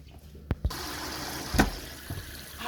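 Tap water running over raw pork belly being rinsed in a kitchen sink, a steady splashing hiss with a few louder gushes and knocks.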